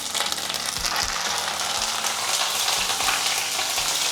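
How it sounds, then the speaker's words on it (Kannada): Curry leaves crackling in four to five tablespoons of hot oil, a dense continuous sizzle with fine spitting pops, steady and close, without speech. "ಕರಿಬೇವು ಚಟಪಟ ಅನ್ನೋವಾಗ ಸಿಡಿಯೋ ಸಾಧ್ಯತೆ ಇರುತ್ತೆ"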